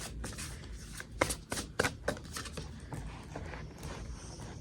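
Tarot cards shuffled by hand for a card reading, a quick run of soft riffling flicks and sharper snaps in uneven rhythm, close and moderately quiet, with no voices.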